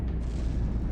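Shell hits explode against an enemy ship in the naval combat game From the Depths, a brief, muffled, rumbling boom filling the low end without any voices.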